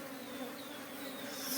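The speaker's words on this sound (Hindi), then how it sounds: "इतना छोटा सा झुंड है मधुमक्खी का, छोटा सा स्वार्म है।" A small swarm of honey bees buzzing inside a basket, a steady close drone that holds level throughout without pause.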